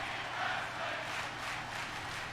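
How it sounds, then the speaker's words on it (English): A pro wrestling arena crowd chants in unison, a broad, roaring wash of many voices that swells and holds steady, heard from within the audience. "The crowd finally realizing what kind of match they're watching. They're chanting tag team wrestling."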